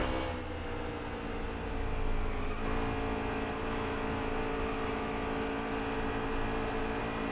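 Stock car engine in NASCAR Heat 3 during a race at Kentucky, held at a steady high-revving drone with a slight swell in the middle, continuous and moderately loud with no speech.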